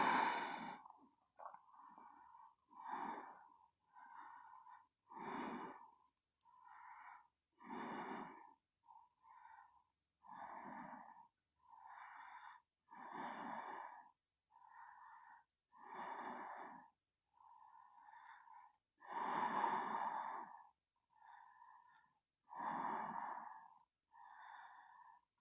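Deep, regular breathing from a person holding a yoga hare pose, head on the floor: slow rhythmic inhales and exhales with a wheezy, snore-like rasp, close and faint, repeating steadily with no talk.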